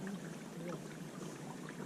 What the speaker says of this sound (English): dipping water out of the old creek here